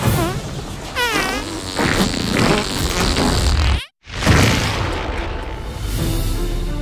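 Cartoonish fart sound effects from the South Park: The Fractured But Whole video game, a run of loud, buzzy, wavering blasts that break off in a brief silence and then resume, with no talking.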